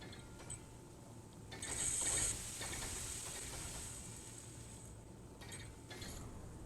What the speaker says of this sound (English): Start welding her up.